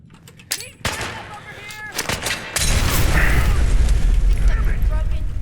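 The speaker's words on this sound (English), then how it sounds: "And now we're being shot at." Gunfire in Fallout 4 goes off in sharp, irregular bursts of shots, then gives way to a loud, continuous rumble of booming fire, with voices faintly in the mix.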